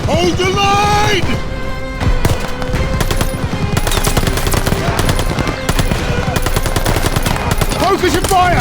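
Dense, sustained machine-gun and rifle fire in a Call of Duty Vanguard battle, rapid bursts hammering loudly and continuously with shouted voices over the gunfire.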